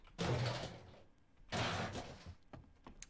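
Two heavy thuds roughly a second apart, like a wooden door shutting in a zombie survival video game, each loud with a brief rumbling tail, followed by faint clicks and small knocks, with no talking.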